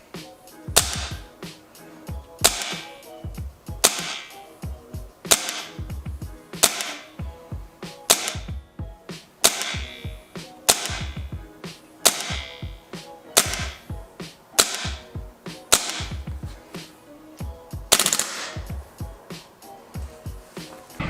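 Modify PP-2K gas blowback airsoft replica test-fired with 0.25 g BBs on 130 PSI gas, a string of sharp, loud shots in short bursts and single pops spread steadily across the whole stretch.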